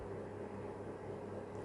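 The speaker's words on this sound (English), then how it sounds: "You can hear a whirring noise in the background. It is my heater." An electric heater whirs steadily in a cold room, a constant low hum-like noise with no change and no talking.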